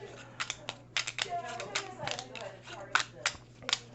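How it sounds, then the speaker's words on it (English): A deck of cards being shuffled at a tabletop during a solo board game of Lost Ruins of Arnak, a series of crisp irregular riffling snaps and flicks, close and fairly soft, with some talking. "And shuffle his deck of cards."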